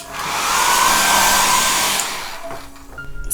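A hair dryer blows over a wet watercolor tulip painting, a loud steady whoosh lasting about two seconds before it cuts off and leaves quieter handling sounds.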